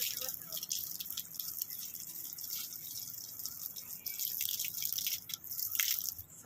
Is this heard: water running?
yes